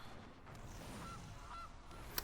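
Gilded Goose card honk from the Magic: The Gathering Arena video game, a short, quiet cartoonish goose call with a faint chime, set under low background game ambience.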